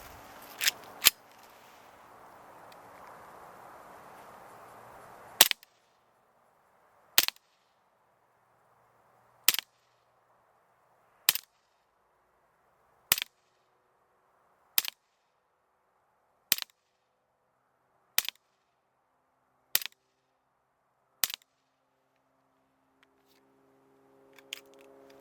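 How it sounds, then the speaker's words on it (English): An Umarex H&K USP BB pistol fires ten sharp single shots at a target in a slow, even rhythm about two seconds apart, each crack clear and close against near silence, with some handling noise before the first shot. "So I'm going to fire 10 rounds, I'll see from this dropout magazine at the target behind us"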